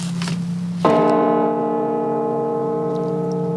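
A church bell in St. Petersburg tolls for plane crash victims: one strong strike rings out and hangs in a long, steady, humming decay, heard clearly and alone.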